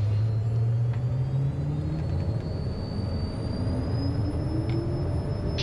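Jet engines of a Cessna Citation run at takeoff power on the runway, a loud steady roar with a deep rising drone and high turbine whine, continuous and close throughout.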